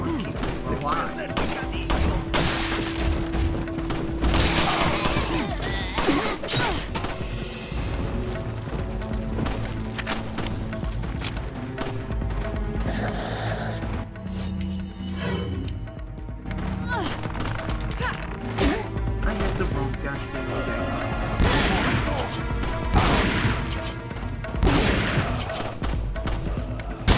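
Repeated shotgun blasts from the game Resident Evil 4 HD on PC, loud booming shots spaced through dense game action and music, with a person talking over much of it.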